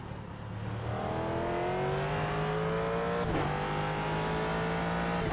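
Ford GT3 race car in iRacing at Road Atlanta, its engine revving up through the gears in rising whines with a quick shift near the end, loud and close, alone without talk.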